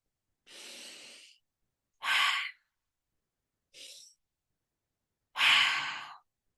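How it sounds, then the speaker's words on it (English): A person does a slow two-part breathing exercise: four separate airy breaths, each lasting about a second, with silent pauses between them. The close, breathy exhales are loudest on the second and final breaths. "So you can do a 2-part slow breath."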